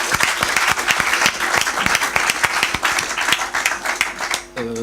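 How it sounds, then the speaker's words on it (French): An audience at a youth question-and-answer event with a prophet applauds an answer, loud sustained clapping from a large crowd that fades out at the end. "Est-ce qu'on peut acclamer pour cette belle réponse?"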